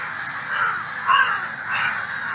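Crows caw loudly and close, three harsh calls spaced about half a second apart, standing out clearly against faint background hiss with no talking.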